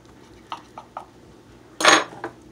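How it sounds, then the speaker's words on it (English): A knife slicing through a baked lentil loaf on a board: a few light taps and clinks, then one louder, longer scraping cut near the end, close and alone without talk. "So what I'm going to do is cut some slices."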